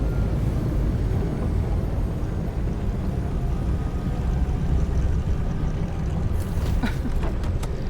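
A vehicle in the video game Nobody Wants to Die lands with a loud, steady roaring rumble that stays constant throughout, and a few faint clicks and crackles come near the end.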